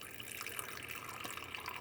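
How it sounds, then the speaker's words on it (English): Water poured from up high into a frog's spring water dish gives a steady close splashing trickle with no pause, like a running tap, over a short stretch. "I'll refill his spring water dish from the up high."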